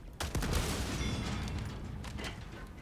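Heavy gunfire and explosive bursts from the video game Helldivers 2, a dense loud barrage with several sharp shots over rumbling booms, and no talking.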